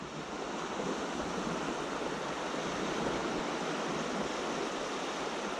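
Sea surf washing in steadily on a shoreline at Dymchurch as the tide rises, a continuous broad roar of breaking waves with no talk.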